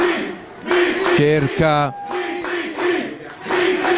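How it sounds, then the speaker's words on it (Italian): Home supporters of the Solighese side, the Piave neighbourhood team, chant and cheer loudly in rising vocal bursts at a women's football match, while a commentator talks over the crowd. "mentre si alza il tifo della formazione del quartiere del Piave, il tifo solighese"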